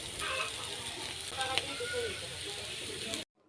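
Chopped roti pieces and vegetables sizzle steadily in a hot pan, a dense crackling hiss with occasional scrapes from stirring, close and continuous before cutting off abruptly.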